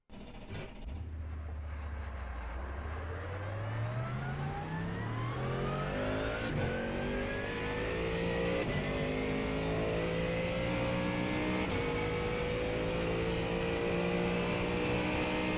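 A race car engine in a racing game at the Nurburgring endurance championship, revving loudly and climbing through gears with repeated upshifts, a continuous close, droning roar that builds in pitch without any talk.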